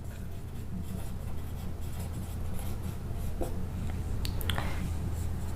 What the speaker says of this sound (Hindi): ये करंट इधर लिख देता हूँ भाई